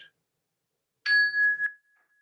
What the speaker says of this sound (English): one strike of this chime, listening with our fullest possible attention for the very